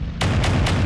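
Chain-fired mech weapons in MechWarrior 5 on a Boar's Head Atlas, three heavy booming shots in even succession, loud and close with no talk.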